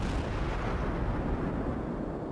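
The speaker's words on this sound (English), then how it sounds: "I'm shooting at a Cleveland right now" Naval guns of a Cleveland, a tier 6 cruiser in World of Warships, roar continuously in a dense, booming rumble of overlapping heavy shots that stays loud and close throughout, with no quiet gaps.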